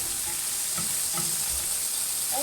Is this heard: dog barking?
no